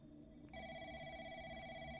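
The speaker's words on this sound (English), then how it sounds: "There was a phone call." A telephone in found footage starts ringing midway, its steady electronic ring continuing over a low background hum.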